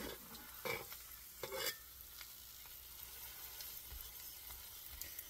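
Taco meat fries and bubbles in a pan, with a constant soft sizzle and occasional stirring scrapes, close but low in level, no talking.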